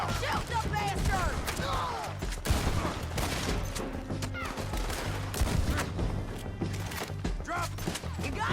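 Gunfire in Red Dead Redemption 2 cracks in a dense, continuous fusillade over a constant low game rumble, with excited voices shouting over the shots.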